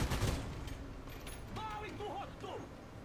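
A short, loud burst of vehicle gunfire from War Thunder opens the clip, then fades into a steady rumbling mechanical background with a voice talking over it.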